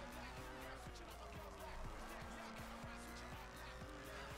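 A Volkswagen Corrado races in the video game Forza Horizon, its engine holding a steady loud drone with rising and falling gear pitches and tire squeal, continuous and close throughout.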